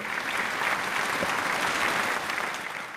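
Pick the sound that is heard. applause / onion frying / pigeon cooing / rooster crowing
applause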